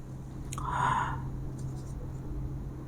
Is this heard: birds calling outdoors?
no